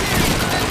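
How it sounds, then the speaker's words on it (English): MG-42 machine gun fire in a World War II game: a brief, loud, dense wash of rapid gunfire with no gaps, under a second long. "The only obstacles you can anticipate are the withering fire of an MG-42"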